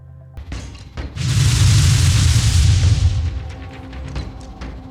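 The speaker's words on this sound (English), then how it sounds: "We have launched a total of 12 rockets, all of them do 110 damage" Gadfly RC-6 rockets launch from a rocket gunship and explode in Phoenix Point, a sharp thump giving way to a sustained, loud roaring barrage of booming blasts that slowly tapers off, with no talking.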